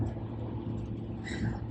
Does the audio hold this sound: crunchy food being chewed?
no